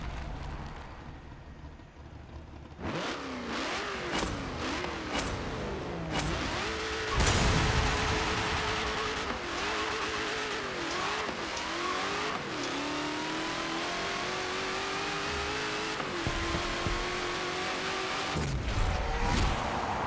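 Race car in Forza Motorsport 7 launching down a drag strip, its engine revving hard and climbing through repeated gear shifts, loud and sustained after a quiet start, with a brief tire squeal.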